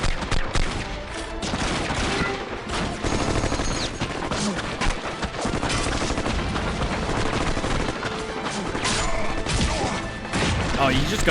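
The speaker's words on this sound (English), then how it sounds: "Oh, you just got shot in the neck." Heavy gunfire in the video game Warhammer 40,000: Dawn of War, loud sustained bursts of shots and crashing impacts layered over battle noise, with a voice talking over it.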